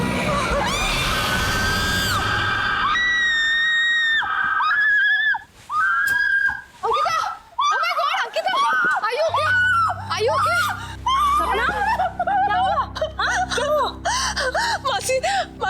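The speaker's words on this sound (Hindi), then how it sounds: "क्यों चिल्लाई तुम?" A girl screams in shrill, rising bursts at close range during a Hindi horror drama, then the cries break into gasps and whimpers as eerie music swells underneath.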